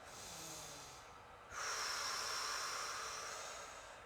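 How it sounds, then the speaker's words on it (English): Slow, deep breaths during a stretching movement routine: a soft airy inhale, then a louder, longer hissing exhale close to the microphone, heard alone without talk. "we'll take a couple big breaths here"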